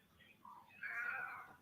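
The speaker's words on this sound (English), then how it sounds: "that is my kitty, and her name is Peaches" Peaches, a pet cat, lets out a soft, drawn-out meow that starts with a brief lower murmur and swells into a longer, clearer cry, fairly faint and close in a quiet room.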